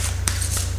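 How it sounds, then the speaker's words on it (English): A deck of angel therapy cards is shuffled close by in a couple of quick riffling bursts over a steady electrical hum. "I'm going to go ahead and shuffle the cards, like always"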